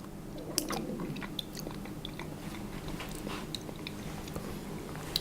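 Close, steady chewing and biting on a chocolate mint brownie, with soft crunchy crackles repeating through the mouthful and no talking.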